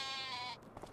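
A single sheep bleats close by in a pen holding around nineteen animals, a short wavering cry that cuts off after about half a second, followed by faint rustling.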